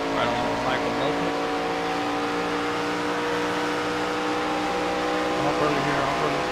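Race cars, numbers 66 and 33, running side by side into turn one at Pocono, a steady loud engine drone with layered harmonic tones throughout and a voice talking over it.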